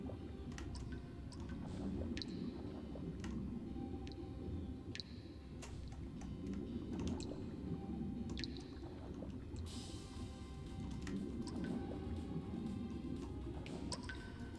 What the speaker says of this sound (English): let's just like swim around here and see if I can find anything under the water